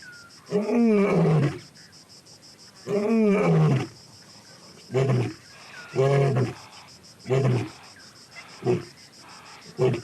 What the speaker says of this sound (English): The big male's roar reaches the lioness as an invitation to dinner.